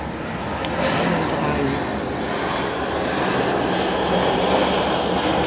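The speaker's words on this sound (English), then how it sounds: "I'm just gonna let the plane go by before I try talking again." A propeller airplane drones steadily overhead in the early morning, a continuous, broad engine rumble heard from an outdoor porch, with no talking.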